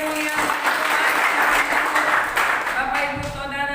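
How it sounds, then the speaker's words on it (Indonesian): A church congregation at a Sunday worship service applauds and cheers in a dense, steady wash of clapping and voices, loud and close, lasting throughout with a slight easing near the end. "Beri sorak-sorai kemuliaan"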